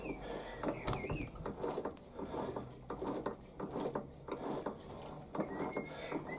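A plug tap turned by hand into a thread on a Warco lathe toolpost grinder part: a run of small metallic clicks and scraping ticks in uneven bursts, close and fairly quiet, with no talk.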